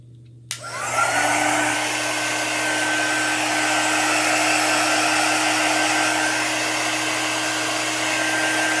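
A hair dryer switches on with a short click and then blows steadily and loudly at close range, drying chalk paste on a board, with no talking over it.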